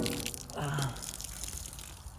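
Water pours briefly and then trickles out of a Jeep Wrangler TJ frame, a 1997–2002 2.5 four-cylinder chassis, with a short close splash followed by faint dripping.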